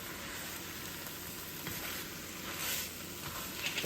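Meat, onions and garlic sizzle in a pan as they are stirred together, a steady close crackling hiss with occasional scraping bursts and no talking.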